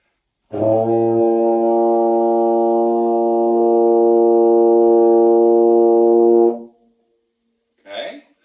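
A single low B flat on a baritone held steadily for about six seconds, rich and buzzy, followed by a brief soft noise after it stops.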